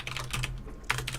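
Computer keyboard typing during a StarCraft II ZvP game, a short burst of clicky keystrokes with a brief pause before resuming, close and fairly quiet over a steady low hum.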